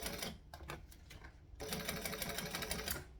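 A domestic sewing machine stitching handbag fabric for a Derica handbag, a steady close whirring run that pauses briefly and then resumes louder and continuous, with no talking.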